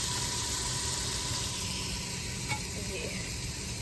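Food sizzles and browns steadily in a hot pan with dry spices, a continuous close hiss with an occasional faint clink of stirring.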